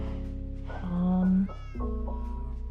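A Minecraft cat meows a few times in the video game, short tonal cries close by over a steady musical background, with no talk.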